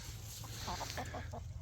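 Hens clucking softly in a sand-floored chicken run, a short series of low clucks over a steady outdoor background hum, moderately close and without talk.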